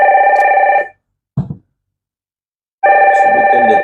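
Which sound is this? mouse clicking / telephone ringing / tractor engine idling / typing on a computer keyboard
telephone ringing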